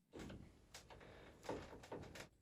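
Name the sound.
creaking chair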